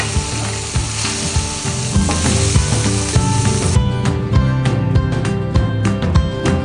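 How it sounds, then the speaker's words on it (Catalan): Prawns frying in a hot pan while a fideuà is prepared, a dense steady sizzle with crackling spatters and occasional scraping stir clicks, close and loud throughout with no talking. "posarem els llangostinets, per sofregir-los una mica"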